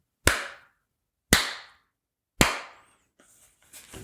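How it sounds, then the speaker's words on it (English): Three loud, sharp hand claps about a second apart, each ringing out briefly in a quiet room, followed by faint shuffling noise. "I'm going to clap so that you have a thing to line up the audio with."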